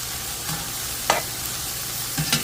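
Ginger and celery fry in a pan with onions, a steady sizzle with occasional stirring scrapes and clicks from a utensil, close and alone.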